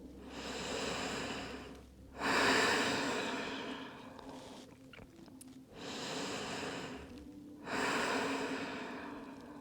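Slow, deep breaths during an upper-back and shoulder stretching session, two long airy exhales each followed by a quieter inhale, close and unhurried with no talking.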